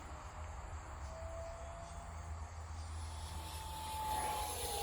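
X-Fly Su-27 radio-controlled jet at full throttle, a steady whining ducted-fan drone heard from a distance, rising slightly in loudness toward the end, with crickets chirping in the background.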